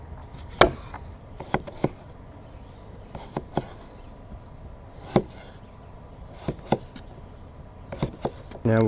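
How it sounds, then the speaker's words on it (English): A potato is cut with a Maxa Blades kitchen knife on a board at a humid summer truck campsite, giving sharp, irregular knocks in small clusters, close and crisp over a faint background hiss. "we're going to start off by cutting the potato, and we'll just cut up all our vegetables"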